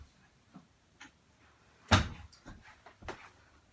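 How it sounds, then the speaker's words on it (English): An interior door is pushed shut with a single sharp thud near the middle, amid quieter household shuffling and small knocks around it. "I gotta shut this door real quick."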